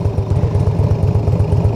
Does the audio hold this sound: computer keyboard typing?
no